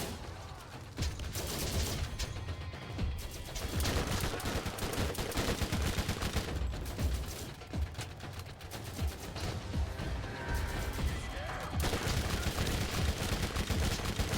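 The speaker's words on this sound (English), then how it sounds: "Stop shooting me." Sustained rapid gunfire in the Borderlands GOTY Enhanced video game, dense bursts of automatic shots rattling loudly almost without pause, with a few brief lulls.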